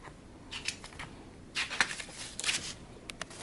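An Accucut Grande Mark 2 die-cutting machine being cranked through box dies under heavy resistance, giving faint scraping and crunching bursts with scattered clicks, close and fairly quiet.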